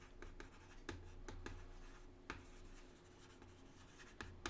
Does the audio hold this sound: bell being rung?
no